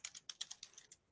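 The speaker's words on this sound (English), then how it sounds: "I'm typing out the text in the WYSIWYG text editor format" Quiet, rapid keystrokes tap on a computer keyboard in an irregular run of about a dozen light clicks, close and faint with no voices.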